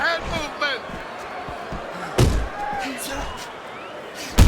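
Punches land in a Fight Night Champion boxing bout between Muhammad Ali and Mike Tyson, sharp thuds near the two-second mark and again at the end, under commentary and a busy crowd bed.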